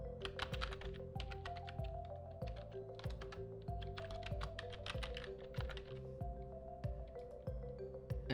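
Rapid, steady keystrokes on a computer keyboard as an email address is typed, close and clear, with soft background music underneath.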